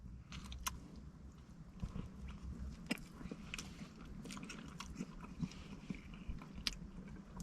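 Close, crisp crunching bites and chewing of a KFC popcorn chicken slab with barbecue sauce, irregular crackly bites spaced through quiet room tone.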